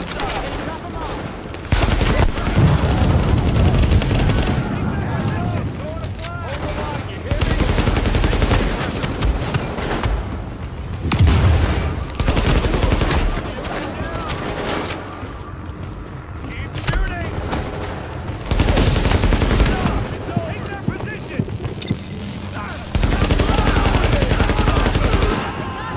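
Gunfire in the shooter video game The Division, repeated loud bursts of automatic weapon fire in several long volleys with brief gaps, accompanied by game soundtrack and radio-style voices.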